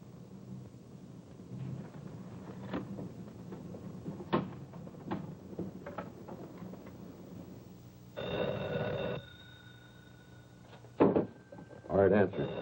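An old-fashioned telephone bell rings in bursts, a long ring and then shorter ones near the end, close and loud in a quiet room, after a stretch of soft shuffling and knocks.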